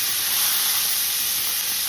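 Pancetta browning in a hot pan with oil, a steady loud hiss and sizzle throughout, no voices.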